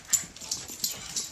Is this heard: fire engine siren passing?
no